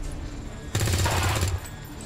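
A short burst of rifle fire in XCOM 2: War of the Chosen, one loud crackling volley lasting under a second, sharply rising out of quieter game ambience and then dropping back.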